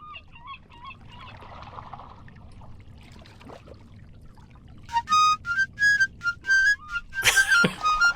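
A whistle tune played in the video game The Longest Journey: a string of bright, clear whistled notes rising and falling in short phrases after a quieter murky stretch, ending on a sharp loud blast.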